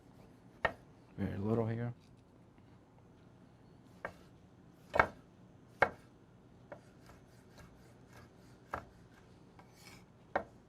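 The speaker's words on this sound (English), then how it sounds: "I'm going to chop little tomatoes here so I can give some color to my dish" A knife chopping small tomatoes on a cutting board: scattered sharp single taps spaced irregularly, with a brief rubbing scrape early on and a short remark spoken quietly.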